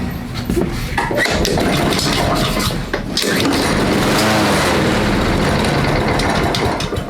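A Honda small engine fitted with an aftermarket carburetor runs steadily, a loud, close, buzzing mechanical drone with a brief dip near the middle before it picks back up and holds.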